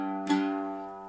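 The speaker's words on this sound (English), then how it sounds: "The G on the octave mandolin sounds like this," A single G note plucked on an octave mandolin rings out with a sharp attack and then a sustained, slowly decaying tone, heard alone and close.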